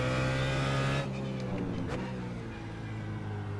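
A BMW Z4 GT3 race car in iRacing at Road Atlanta, its engine holding a loud, steady high-revving drone, then dropping in pitch at a gear change about a second in, with the revs easing and climbing again, close and prominent.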